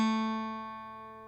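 A single plucked guitar note, the second fret of the G string, rings out close and clear on its own, with a steady harmonic tone that slowly decays over about a second.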